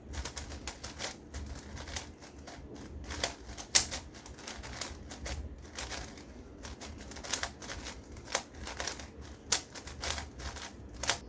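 A Dayan Nezha 5x5 speed cube is turned quickly, giving a dense stream of sharp plastic clicks and clacks, rapid and irregular, fairly quiet and close, with no voices.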